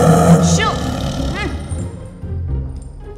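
A pet tiger named Uttama lets out growling roars in a film scene, loud and near, with music and other sounds around it.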